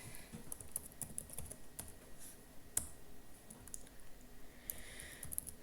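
Computer keyboard keys clatter in quick, irregular bursts while a name is entered during Windows setup on a Windows Whistler build 2419 install. The clicks are close and light, with short pauses between runs and no voices.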